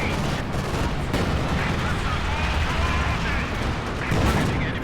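Tank cannon fire and explosions in the video game Company of Heroes 2, a dense, loud battle mix of booms and gunfire under a steady rumble.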